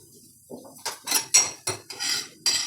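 Cinnamon sticks go into a frying pan while cooking Hitikida Avarekalu saaru: a handful of close, sharp metallic clinks and clatters of pan and utensil in an irregular rhythm, with no talking.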